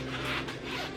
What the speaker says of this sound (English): So it definitely zips